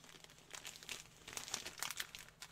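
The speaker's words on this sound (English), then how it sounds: "we're going to tape it all up" Packing tape being pulled and pressed onto a plastic shipping bag for an eBay parcel, giving a steady crinkle with short tearing bursts close to the mic and no talk.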